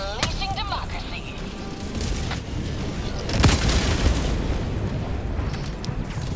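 Eruptor weapon firing explosive shots in Helldivers 2 against Automaton bots, a heavy boom with a burst of blast noise midway over dense, continuous battle din.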